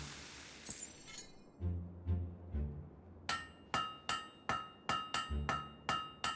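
Blacksmith hammer striking a blade on an anvil in Fable III, with a series of bright metallic clangs, a few heavier thuds, then about eight evenly spaced ringing blows.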